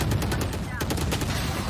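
Rapid gunfire from the shooter game Valorant at a 2022 Valorant Champions Tour match between 100 Thieves and Fnatic, dense bursts of shots under constant crowd and caster noise.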